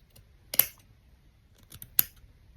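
Scissors cut out fabric pieces for stitching, making a few crisp snips close up in a quiet room, two sharp cuts standing out.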